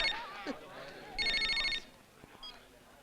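A telephone rings with a short burst of bright electronic trilling as a sister calls, heard close with a voice talking just before and a little chatter after.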